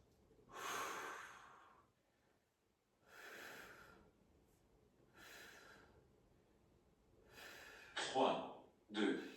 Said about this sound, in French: On respire.